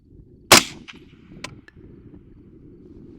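A single suppressed rifle shot from an HK MR556A4 loaded with Wolf Gold 55 grain ammunition, fired at a long-range night shoot. One sharp, loud crack is followed by a fainter snap a second later against a low steady rumble.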